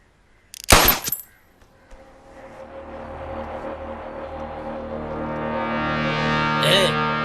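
A single loud gunshot rings out in a Hindi-dubbed action movie, a sharp close burst followed by a rising, sustained mechanical drone with a brief second crack near the end.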